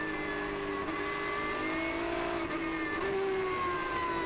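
Porsche Carrera Cup race cars at Zandvoort circuit drone steadily at high revs, two running side by side, a sustained engine whine with slowly shifting pitch and no voices over it.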